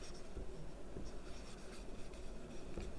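Chalk or marker scratching across a classroom board in steady short strokes, close and moderately loud over a dense, rough background.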